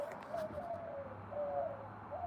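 Pigeons cooing softly in a public outdoor spot, low repeated coos against a steady background hum, fairly faint and with no voices over them.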